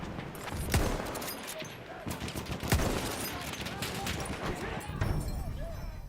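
Battlefield 1 gunfire cracks in sharp repeated shots and short bursts, with one loud report near the start and another soon after, over a busy battle din with voices in the mix.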